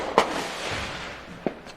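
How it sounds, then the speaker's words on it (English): Fireworks pop in the distance at a Fourth of July gathering, two sharp bangs standing out over a steady crackling background haze. "I've kind of become numb to the fireworks sound in the background, but you can probably hear this shit"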